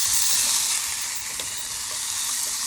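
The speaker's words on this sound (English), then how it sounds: "Just let that meat get a little" Meat browning in a pan gives a steady, close sizzle and fry hiss with a few faint clicks of a utensil, no voices.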